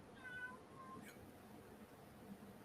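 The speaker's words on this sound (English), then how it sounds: "Sorry if you hear my cat, by the way." A pet cat gives a single soft, faint meow early on, set against a quiet room.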